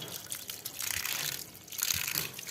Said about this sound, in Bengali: তো ভালো করে এগুলোকে ধুয়ে নেব।